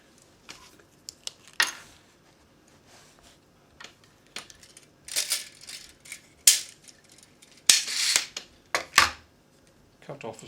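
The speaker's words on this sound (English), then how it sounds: "Cut off a strip of material." Scissors snip through a strip of cushion fabric in scattered sharp clicks and short cutting bursts, close and intermittent, with quiet gaps between strokes.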